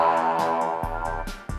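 Roland TB-3 synthesizer playing preset B37, a dense sustained patch with bright harmonic layers and a few sharp rhythmic attacks, loud and alone without any voice.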